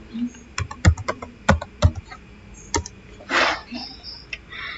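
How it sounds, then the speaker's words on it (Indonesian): Keystrokes on a computer keyboard while a password is entered at a Cisco router prompt: a handful of distinct, close clicks in an uneven rhythm, followed by a louder hiss-like burst and a few more soft taps. "Kita coba ketik Cisco ya"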